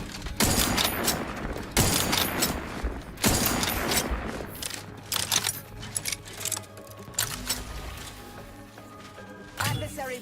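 Heavy video game gunfire fills the first half with sharp repeated bursts, followed by quieter clattering shots and mechanical noises while a synthetic voice speaks.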